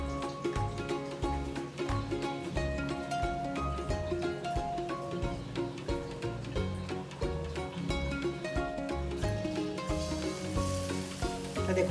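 Bread pakora slices coated in besan (gram flour) batter fry in hot oil, making a continuous crackling sizzle. The sizzle stays steady throughout under a faint tonal background.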